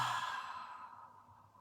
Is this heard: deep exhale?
yes